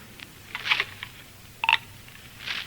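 A telephone in a phone booth dials: a few short, separate tones or clicks spaced apart in a quiet room, moderately close.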